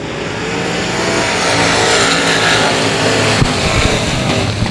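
Sport Mod race cars take the green flag to start a heat race at Cotton Bowl Speedway, a loud, sustained roar of several engines revving hard together close by.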